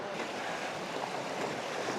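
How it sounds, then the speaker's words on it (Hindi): Rushing water of a small glacial meltwater stream flowing across a glacier on the Rupal side of Nanga Parbat, a steady broadband wash heard close and alone, with wind over the microphone. "ये देखो बीच ग्लेशियर में एक छोटा सा दरिया आ रहा है आगे पिघल के पीक से भी"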